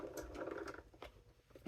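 A die cutting machine runs steadily while cutting farmhouse Christmas stamp dies for card making, a mechanical whirring with rattling clicks for the first second, then fading into quieter intermittent taps.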